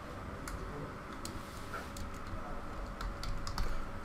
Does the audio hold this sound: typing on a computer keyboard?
yes